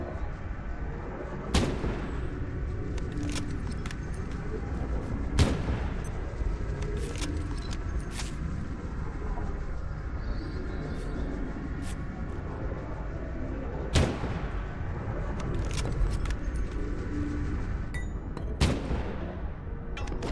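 Sharp gunshots from the video game Abiotic Factor crack out singly at irregular intervals, about six to eight reports over a low rumbling background hum, fairly faint overall.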